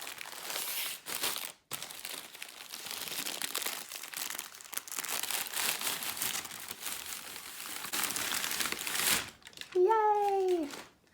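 A fabric shop's plastic bag crinkles and rustles close up in a steady, busy stream, with brief pauses. A short high-pitched voice exclaims near the end.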